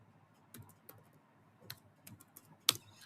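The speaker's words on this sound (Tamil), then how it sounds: "ஸோ இப்போ நான் Ctrl+B ப்ரெஸ் பண்ணிவிட்டு" Keystrokes on a computer keyboard while pressing Ctrl+B in MS Word: several faint, quiet clicks spread over a few seconds, with one sharper, brighter tap near the end and no talking.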